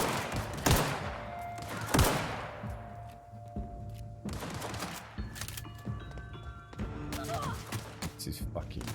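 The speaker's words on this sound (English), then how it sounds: "I'm trying to shoot a pistol from about 3 miles away" Pistol gunfire in The Outer Worlds video game, several sharp, fairly loud shots at irregular intervals amid other combat noise, with a person talking in the background.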